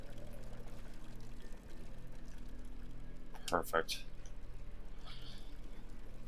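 A tap left running in the video game Amnesia gives a steady low pour of water, faint and continuous, and a person talks briefly partway through.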